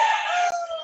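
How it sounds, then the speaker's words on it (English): A rooster crows once, close and loud, a drawn-out tonal call that tails off abruptly. "I think I have to interview that rooster"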